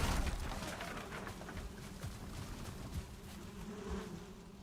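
Insect-like buzzing of bees in the Valheim video game, a steady droning hum that carries through the whole stretch with small swells, moderately close and without talk over it.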